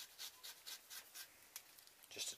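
A sharp blade shaves and trims a homemade ferro rod neck sheath in a bushcraft setting, giving soft, quiet scraping strokes in an uneven rhythm with a brighter rasp near the end.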